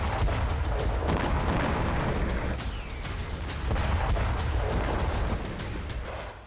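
Heavy, continuous barrage of booming blasts and gunfire-like cracks from an Israeli strike on a Hezbollah site in Aleppo, loud and dense throughout with repeated sharp impacts over a rumbling low end.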